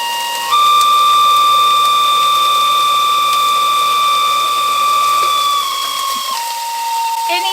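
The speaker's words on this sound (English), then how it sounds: "And you want to hear my fan?" A dirty kitchen range fan in a tiny home or RV kitchen runs with a loud, steady whine and a constant mechanical rattle, close by. Its pitch shifts slightly near the end.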